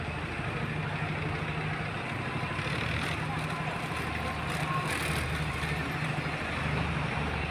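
A small launch boat's engine at sunset on a river: steady low droning hum running throughout under wind and water noise, moderately close, with brief faint voices in the background.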